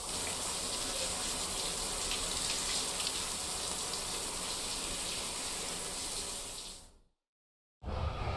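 A shower runs in the video game Death Stranding 2, a loud, continuous hiss of falling water that stops abruptly, then after a short silence the spray starts again.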